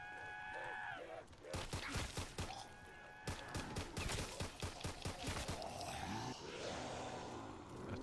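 Pistol fire in a video game, several sharp shots in quick bursts, separated by short pauses, with a voice speaking over parts of it.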